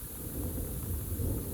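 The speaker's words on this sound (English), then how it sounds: "thunder." Thunder rumbling through a thunderstorm, a continuous low roll with rain hiss beneath it, steady and moderately loud throughout, with no voices.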